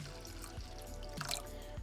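Water poured over dried salty shrimp to soak, a faint trickle with small splashes and drips against a low background hum.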